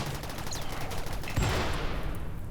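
An inferno cannon fires in the video game Rimworld, a sudden loud blast about midway through that settles into a rumbling, crackling roar over steady background noise.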